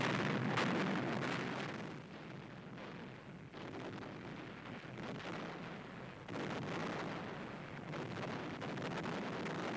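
Warship shelling of Danzig comes through as a rumbling wash of distant explosions and blasts, rising and falling over a blustery, windy background with no voices.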